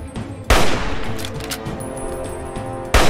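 Hunting rifle fired in the video game Fallout 3, two sharp, loud shots with boomy echoing tails, roughly two and a half seconds apart, over steady game background noise.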